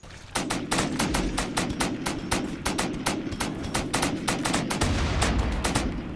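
Rapid automatic gunfire from the War Sweeper weapon in a video game, a steady loud stream of sharp shots at an even rhythm lasting throughout, with no talking over it.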